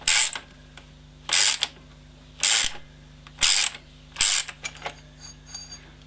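A ratchet wrench is turned by hand on an air-conditioning pulley tool during an AC repair on a Rodius, giving five evenly spaced bursts of loud clicking, each followed by short quieter pauses and fainter trailing clicks.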